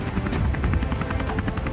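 A helicopter in flight, with a steady low-frequency rotor throb and repeating pulsed chop, loud and continuous with no voices.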